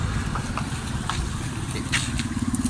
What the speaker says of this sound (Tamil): நம்ம வண்டி இப்போ ஸ்டார்ட் பண்ணியாச்சு